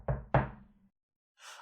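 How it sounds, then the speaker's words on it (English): Two firm knocks on a wooden door, close and fairly loud, a quick pair with a resonant thud that dies away, followed by silence and a short burst of soft hiss at the end. "Red ran to the woodcutter's house and knocked on the door."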